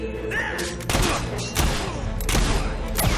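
Loud bursts of video game gunfire in Fable 3, several heavy volleys crackling over continuous battle noise, with brief shouts from characters.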